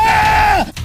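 A person lets out a loud, sustained high-pitched scream in a forest near an abandoned camper lab, the cry holding steady before sliding down and breaking off abruptly.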